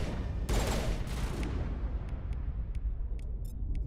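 Burst rifle fire in the Mass Effect game, a dense loud volley at the start followed by a few short, sharp clipped reports against steady rumbling background noise.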